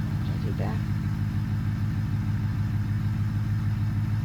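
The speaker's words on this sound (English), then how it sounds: "it sounds more like a modern car engine to me" A car engine with the CJD Special tune mod in BeamNG.drive idles steadily as a low, even rumble, with a brief rising rev sweep early on, heard under a talking voice.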